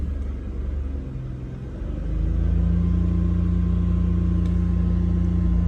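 BMW E46 engine, in an abandoned car with a large hole in the side of the boot, idles low and then rises into a loud, sustained wide-open-throttle rev held steady for several seconds close to the microphone.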